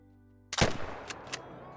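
A single sharp shot from a .257 rifle in Call of the Wild strikes a game animal, a loud crack followed by a fading echoing tail and two faint later ticks.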